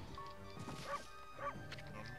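Two short, soft barks from a dog in the video game Okami, spaced about half a second apart over quiet background music.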